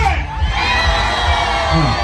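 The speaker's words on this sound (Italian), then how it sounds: "facciamo un altro bell'urlo libero al mio 3" A carnival crowd of the Fenix Group at the Sangavinese Carnival lets out a loud, sustained cheering shout, many voices together with whoops and yells, close and dense.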